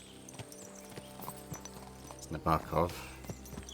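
Horse hooves clip-clop steadily at a walking pace in Kingdom Come Deliverance 2, with a louder pair of hoof strikes near the end and someone talking over them.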